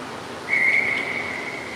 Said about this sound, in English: First whistle of the game.